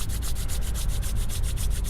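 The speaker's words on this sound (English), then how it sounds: "rubbing the hands." Palms rubbing together in a steady, continuous friction hiss with a faint rhythmic pulse, close and even, alone without talk, part of a calm body-relaxation practice.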